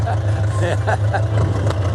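A wartime farm tractor engine runs with a steady low rumble throughout, close by, while people talk over it.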